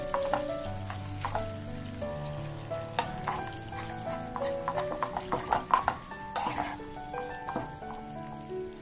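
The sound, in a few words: khova roasting in ghee on a low flame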